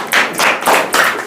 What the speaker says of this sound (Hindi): अभी यहाँ पे देख रहे हैं कि उनके लेकर के ताली भी बजा रहे समर्थन।